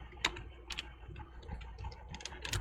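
Typing an Excel formula on a computer keyboard, a handful of light, irregular key clicks at close range over a quiet room.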